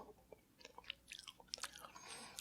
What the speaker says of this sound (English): Down to the end of my popcorn, and I'm getting those kind of like crunchy